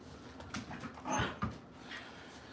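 Dogs whimpering and panting indoors, with a couple of short whiny yelps rising above a low steady background hum; no talking.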